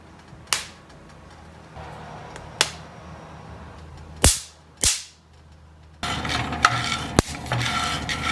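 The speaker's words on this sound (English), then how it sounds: "We just heard the first set of cracks." Coffee beans roasting in a pan give several sharp, isolated first-crack pops, spaced irregularly over a low background hiss, followed by a rougher stretch of stirring with a few more cracks.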